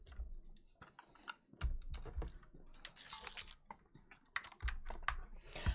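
Rapid typing on a cheap computer keyboard, close and crisp, with irregular bursts of clacking keystrokes and occasional louder key thumps, with no talk.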